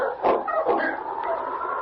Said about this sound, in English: Take charge of your dogs